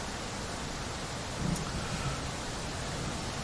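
A steady, dense wash of heavy rain hisses through a storm over JFK airport in Tower!3D Pro, with a faint low rumble briefly swelling midway and no voices.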